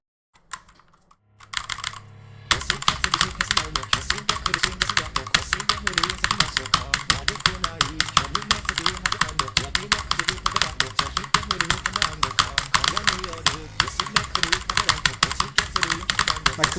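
Relentless rapid key tapping on a computer keyboard during a rhythm game. After a couple of seconds of quiet, sparse clicks it bursts into steady, loud, dense streams of strikes that hold for the rest of the stretch.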